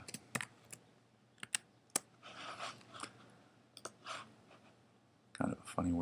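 Clicks from a computer keyboard as a word is typed into a text box, a scattering of sharp keystrokes spread unevenly with pauses, fairly quiet and close, ending in a brief burst of louder handling noise.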